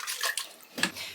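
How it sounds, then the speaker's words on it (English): Water runs and splashes in uneven bursts as a metal soil blocker is rinsed off before mixing a peat-free potting blend, close and moderately loud with short pauses between gushes. "Washing off your soil blocker first."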